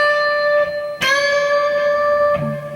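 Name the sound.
electric guitar string bend up two frets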